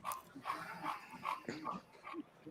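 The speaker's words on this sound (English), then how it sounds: "You hear the dog at the back." A dog barks and yips softly in the background in a string of short calls, faint and distant rather than close.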